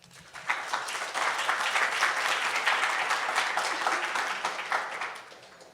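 An audience at an academic conference on internationalizing higher education applauds a keynote speaker, steady dense clapping that swells quickly and holds for several seconds before fading, filling the room.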